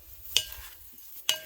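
Two quick clinks of a spoon against a glass jar while stirring tea sweetened with stevia, bright and close, with a soft swishing between them.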